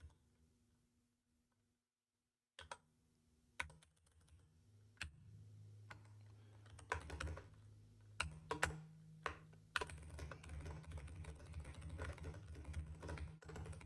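Computer keyboard typing while code is written, with scattered close key clicks after a brief silence, then a steadier run of taps over a low hum, no talk.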